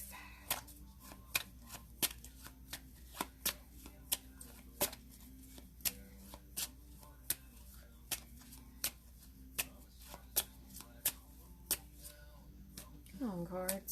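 Tarot cards being shuffled in regular crisp snaps and riffles, roughly two a second, close and fairly quiet, with a steady hum beneath and a short rising sound at the end.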